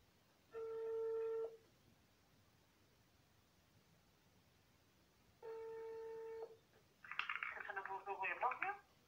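Two spells of steady telephone dialing or ringback tones sound on a callback line, each lasting about a second and a half, with a quiet gap between them, then a burst of voice comes through the phone at the end.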